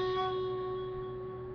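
A single clean guitar note fretted close to the fret, ringing steadily with a clear pitch and no buzz, slowly fading over a moment.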